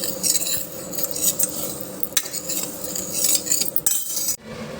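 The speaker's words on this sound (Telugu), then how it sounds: "కందిపప్పు వేపుకోవాలి ఇలా" Toor dal is roasted and stirred in a pan, giving continuous scraping and clinking of a metal spoon against the pan, with a faint sizzle and scattered sharp taps.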